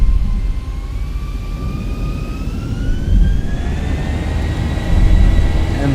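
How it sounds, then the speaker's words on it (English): A Ryanair airliner's jet engines spool up as it starts to roll: a loud, steady roar with rising whining tones, the rumble surging a couple of times. "and our aircraft is moving"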